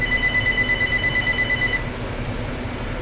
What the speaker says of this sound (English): there's the phone for my recording on schedule.